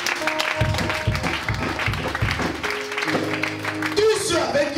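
A church congregation claps and cheers in praise, a dense run of applause mixed with voices and sustained music tones, loud and close throughout.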